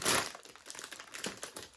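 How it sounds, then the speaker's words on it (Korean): A clear OPP plastic packaging bag used for wrapping goods crinkles and rustles as it is handled, a sharp crackle at first then lighter scattered crinkles, close and quiet, with no talking. "이거는 OPP 봉투인데요. 흔히 우리가 보는 그 포장용 비닐봉투라고 보시면 돼요."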